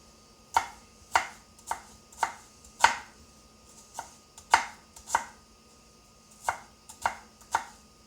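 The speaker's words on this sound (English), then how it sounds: "So we've got our onion chopped" Knife chopping onion on a cutting board for spaghetti: about a dozen sharp, distinct chops in an uneven rhythm, close and clear with quiet gaps between strokes and no talking.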